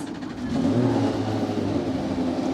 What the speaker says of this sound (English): Engines firing up down here on pit lane.